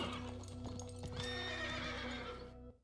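A horse in a video game whinnies with a long, wavering neigh over a low steady musical drone, followed by a few clip-clop hoofbeats and brief snorts, close and clear with no talking.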